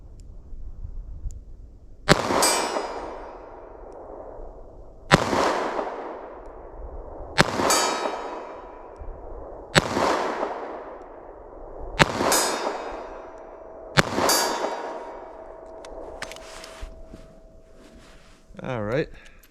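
A .38 Special +P revolver fired into ballistic gel, six loud sharp shots spaced about two to three seconds apart, each ringing out with a long metallic decay.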